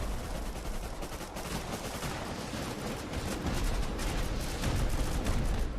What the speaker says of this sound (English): rockets going off all at once